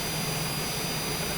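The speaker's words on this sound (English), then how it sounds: "I just got my #1 engine fired up" The number one engine of a hurricane reconnaissance aircraft runs after start-up, a loud, constant jet roar with a low rumble and a faint high whine.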